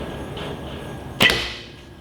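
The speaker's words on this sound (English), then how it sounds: "A little bit of string noise, which string silencers would remove." A single string twang from a Martin Savannah longbow loosing an arrow, a brief sharp snap standing out alone over a quiet outdoor background, then fading quickly.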